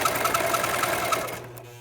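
A serger sewing machine runs steadily at close range with a fast, even mechanical whir and rhythmic needle clatter, then stops abruptly near the end, leaving a faint hum.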